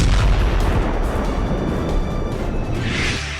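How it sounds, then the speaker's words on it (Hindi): Storm Shadow missiles strike a Russian naval base, giving loud, continuous booming explosions with heavy low rumble that stays strong throughout. "यूक्रेन ने रूस के नेवल बेस पर हमले के लिए स्टॉर्म शैडो मिसाइलों का इस्तेमाल किया है।"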